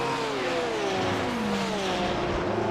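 A McLaren MP4 12C in a sim racing game at Watkins Glen, its engine note sliding downward in pitch as the car slews sideways toward the wall, loud and continuous, with no voices.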